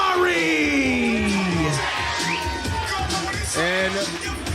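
Live wrestling crowd at a Chaotic Wrestling show in Boston, cheering, whooping and yelling loudly for the wrestler Jamari, a steady roar of many voices with rising shouts and whistles throughout.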